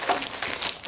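Plastic bags holding LEGO Technic Race Buggy 42164 pieces give a brief, close, crisp crinkle of rustling plastic in quick uneven bursts, with no voices.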